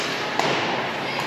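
A hockey puck strikes the boards during a semi-final game between Sussex and Oromocto, a single dull thud against steady arena crowd noise, with a second faint knock shortly after.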